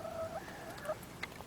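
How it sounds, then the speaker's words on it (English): Silkie chickens on an off-grid homestead cluck softly and intermittently, with a few short calls over a quiet outdoor background and no talking. "There's a silky down there, little poodle bird,"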